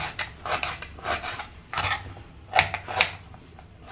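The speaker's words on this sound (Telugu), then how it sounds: "నేనైతే ఆనియన్ కట్ చేసుకొని ఇంకా కర్రీ స్టార్ట్ చేస్తాను." A knife chops small onions on a board for an egg curry, giving a series of close, crisp, irregular cuts and scrapes with short pauses between strokes.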